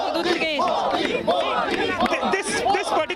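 A dense crowd of Kalyani supporters at a Narendra Modi political rally in Kolkata cheers and chants loudly and close by, overlapping voices rising and falling in excited shouts.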